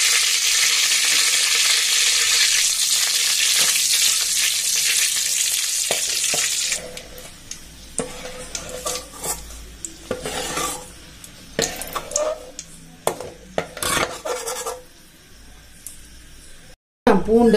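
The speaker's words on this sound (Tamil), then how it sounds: "அதை அப்படியே முழுசாக போட்டு பொரிச்சு எடுத்துக்கலாம்." Whole dried red chillies fry in hot oil for an amla pickle, a loud steady sizzle for several seconds that then cuts out, leaving scattered clinks and stirring sounds with a voice talking.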